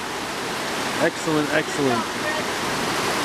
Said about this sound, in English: we're here filtering water, filling up. I'm using my Sawyer Squeeze.